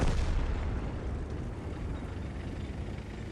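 Artillery fire strikes a tank in World of Tanks, a loud broad explosive rumble that opens with a heavy blast and then rolls on as a sustained low roar.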